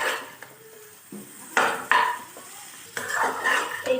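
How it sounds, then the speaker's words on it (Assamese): Jackfruit being stirred with spices in a pot for a curry, a few scraping and clinking strokes of a utensil against metal between quieter pauses, close and alone. "এতিয়া মই এইখিনি ভালদৰে মছলাখিনিৰ সৈতে মিহলাই লম"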